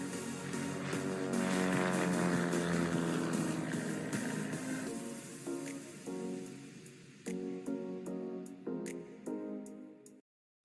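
A light training aircraft taking off from runway 29, its engine droning loud and steady, then fading and cutting in and out in short bursts as it moves away.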